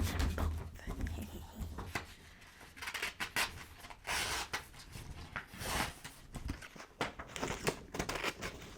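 Scissors snip and crinkle through paper while cutting out paper stars, a close, soft run of rustles and repeated sharp cuts, with faint background noise.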